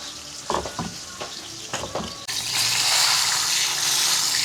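Milkfish (bangus) frying in hot oil, a steady loud broadband sizzle that jumps in intensity partway through, preceded by a few brief clatters.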